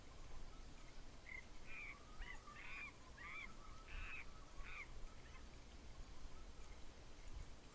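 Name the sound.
monkey or primate call in Fishing Planet video game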